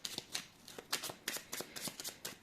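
A deck of oracle cards is shuffled by hand, giving quick rippling riffles in several bursts with short pauses between them, close and crisp, with no talking.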